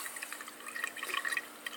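Water flows steadily but faintly from a pump hose drawing water out of a 29-gallon aquarium, a soft bubbling trickle with light splashes and no voices.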